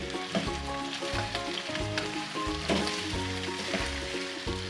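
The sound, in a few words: chicken frying with ginger garlic paste for nihari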